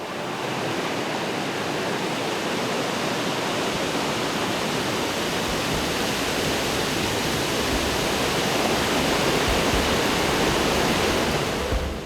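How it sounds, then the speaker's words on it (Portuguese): The Jaguari river rushes through the Serra da Mantiqueira highlands as a loud, continuous broadband roar of flowing water, steady and unbroken throughout. "É na Serra da Mantiqueira que ficam várias nascentes de rios importantes, como esse aqui, o Jaguari"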